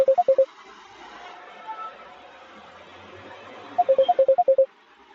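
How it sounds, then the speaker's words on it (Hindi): A phone rings with an electronic tone: a quick burst of high beeps, a pause, then a longer run of rapid beeps, all loud and close over a faint hum. "फोन की आवाज आ रही है"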